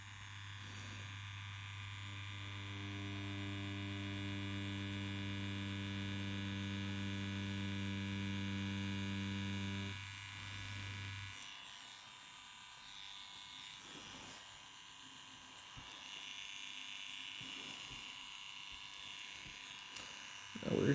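A Yilong F3 adjustable-stroke tattoo pen machine running with a steady, even electric buzz for about ten seconds before it cuts out, leaving a quieter, scratchy background.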